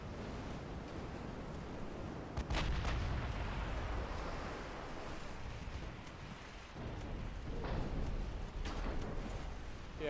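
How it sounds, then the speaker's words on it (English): Naval gunfire in the warship game Ultimate Admiral Dreadnoughts, with a few sharp booming shots over a steady rumbling sea-battle background, close and loud, no talking. "Fire your guns, you little bitch!"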